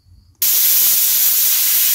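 A pressure cooker whistle releasing steam on a gas stove while cooking pav bhaji with water, bursting abruptly into a loud, continuous hiss that stays steady after a brief quiet start.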